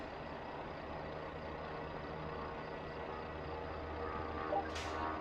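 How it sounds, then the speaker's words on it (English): Truck tractor unit manoeuvring in Euro Truck Simulator 2, a steady low engine drone running throughout with a brief hiss near the end, with no talk. "Get the truck round, or the tractor as they prefer to call it."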